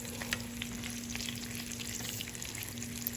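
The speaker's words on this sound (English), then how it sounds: "So while this bacon continues to cook" Bacon frying in a pan, with a steady, close crackling sizzle and scattered pops running the whole time under a low hum, no voices.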